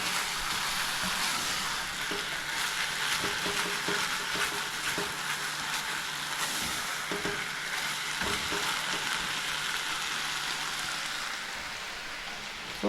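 Meat frying in its own rendered fat in a pan with no added oil, a steady close crackling sizzle with dense popping that runs evenly throughout.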